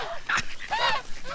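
Ducks on a new farm quacking in a few close, nasal bursts with short gaps between them, moderately loud outdoors with no talking over them.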